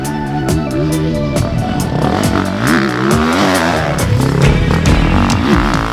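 A new 2024 Beta 450 RX motocross bike ridden on a track, its engine loud and close, rising and falling through repeated revs and gear changes with a rough, clattering edge throughout.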